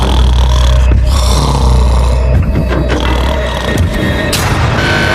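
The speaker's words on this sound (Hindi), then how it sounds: "वो स्टूपिड कॉप सारी रात खर्राटे मारता रहा।" A man snores loudly at night, deep rumbling breaths rising and falling over several seconds, close and unaccompanied by speech.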